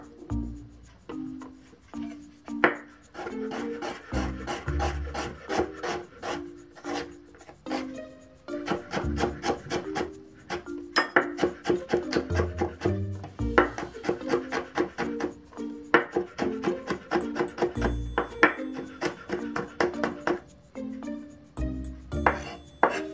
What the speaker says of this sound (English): next we can mince the ginger, garlic, and the Thai peppers